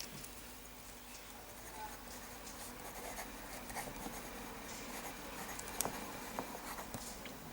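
A Montblanc Solitaire fountain pen scratches steadily across paper with a soft, continuous rasp, now and then skipping into light ticks and taps. A voice talks quietly underneath.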